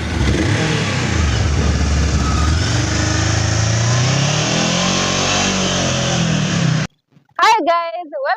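A VOGE DSX 525cc motorcycle engine runs loud and close, its pitch rising and falling through several revs before cutting off abruptly, after which a voice briefly speaks.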